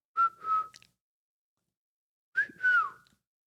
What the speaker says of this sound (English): Time to whistle.